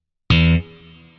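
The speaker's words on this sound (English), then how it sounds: "What you want to do again is cover the strings and then snap the low E string with the side of your" Electric guitar low E string snapped hard with the side of the thumb while the other strings are muted, giving a single loud, percussive, twangy pluck that decays into a lower sustained ring.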